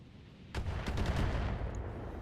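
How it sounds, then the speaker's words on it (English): Rapid gunfire from a mech video game, aimed at a Banshee, breaks out as a dense burst of overlapping shots and keeps rattling steadily for nearly two seconds, fairly loud with no talk over it. "Keep shooting the Banshee."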